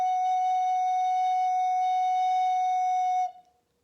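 A single steady F sharp note on a recorder holds clear and pure for about three seconds, then stops.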